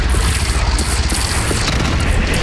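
A bridge is shot down and collapses in the video game Horizon Zero Dawn, making a loud, continuous rumbling crash with booming debris that fills the whole moment.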